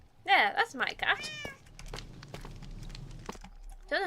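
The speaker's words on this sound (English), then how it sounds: "Yeah, that's my cat." A pet cat meows several times in quick succession, close and fairly loud, followed by a quieter stretch of faint rustling and clicks, then one more meow at the end.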